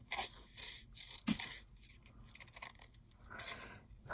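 Scissors cutting around a die-cut paper piece, a string of close, quiet snips and crisp paper scrapes in uneven rhythm, with small rustles between cuts.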